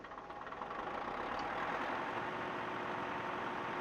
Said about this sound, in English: Now start the engine.